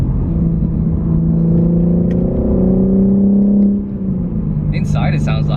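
A BMW G80 M3 with bucket seats under full-throttle acceleration: a loud, steady engine and exhaust drone rising in pitch for several seconds, then easing off, with brief crackles near the end.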